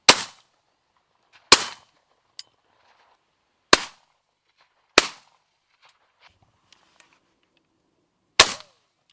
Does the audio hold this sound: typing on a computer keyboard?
no